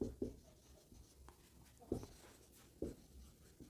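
Chalk or marker scratching and tapping on a board during a chemistry lecture, a series of quiet strokes in uneven bursts, faint and close, with no voices.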